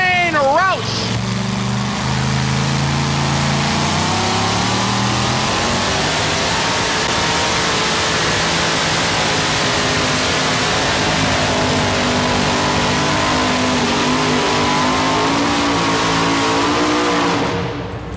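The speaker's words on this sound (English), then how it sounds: "518 cubic inch Chrysler Hemi power, basically the same motor they run in Top Fuel drag racing" A 1982 Dodge Rampage powered by a 518 cubic inch Chrysler Hemi makes a drag run, its engine roaring loudly and steadily as it accelerates hard, the pitch climbing and holding with no talk over it.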